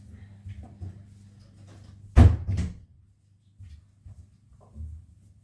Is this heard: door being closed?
yes